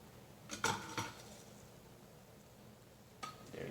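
Zucchini tuna melt being set on a plate: a few faint clinks and scrapes of food and utensil against the dish, two close together early and one more near the end, over quiet room hiss.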